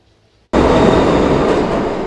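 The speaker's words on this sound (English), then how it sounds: "As trains rattled past" Subway trains rattle loudly past inside Union Square station, a sudden roar of wheels and cars that stays close and steady after a brief quiet start.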